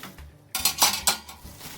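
Metal steam oven trays from a ChefCubii 4-in-1 countertop steam oven clatter and clink during washing, a few sharp close knocks and scrapes of pans against each other, with no voices.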